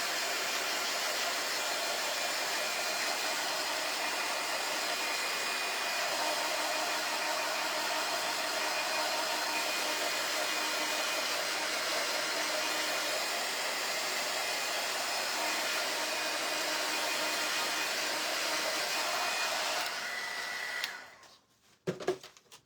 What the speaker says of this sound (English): I'm going to dry it just a tiny bit